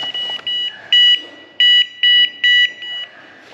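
An electronic fishing bite alarm on a feeder setup gives a run of sharp, bright beeps in uneven bursts of changing pitch and length, loud and close, with a quiet murmur between them.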